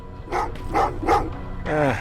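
Dogs barking in the video game Terminator Resistance, four loud, close barks in an uneven rhythm, the last one drawn out into a whining yelp.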